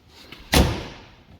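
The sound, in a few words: door of Honda Pioneer 1000-5 side-by-side closing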